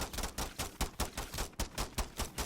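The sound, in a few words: gunfire from a weapon in the video game MW3 Zombies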